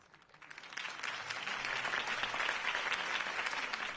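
A large crowd applauds after a mayoral campaign speech for Harvey Dent in Gotham, the clapping swelling within the first second into loud, sustained, dense applause that carries steadily to the end.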